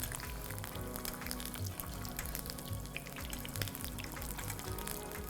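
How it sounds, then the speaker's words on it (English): An egg fries in hot oil in a pan while the yolk is basted, giving a steady, dense sizzle and crackle with no pauses from start to end, close and even in loudness. "you keep basting the yolk with the hot oil just to help the yolk to set up"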